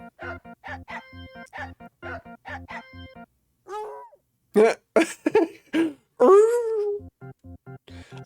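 A dog barks in the Silent Hill 2 Remake game, a run of short, even, regularly spaced barks followed by several louder whining, howling yelps, close and clear with no talk over them.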